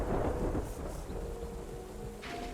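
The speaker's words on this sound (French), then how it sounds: "Moi aussi j'ai peur de l'orage, hein." Thunderstorm in the video game Terra Nil, with steady rain and a low rolling rumble of thunder, loud and continuous, plus faint tonal game sounds near the end.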